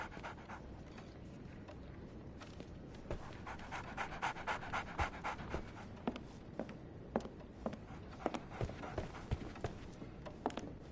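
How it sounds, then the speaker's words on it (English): A dog panting steadily and close in Sherlock Holmes The Awakened, quick rhythmic breaths with soft footfalls alongside. "So, Barnes has a dog now."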